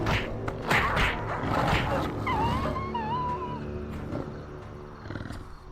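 A tiger creature roars in the Black & White 2 game, a rough, growling bellow over busy game sounds, with a bright wavering cry partway through and a faint voice under the mix.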